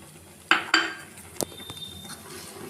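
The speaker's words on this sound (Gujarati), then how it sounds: "હવે આપણે તેને હલાવી લઈશું." A spoon stirs vermicelli mango custard in a metal pot, making a few distinct clinks and scrapes against the sides, close and fairly quiet, with no voices.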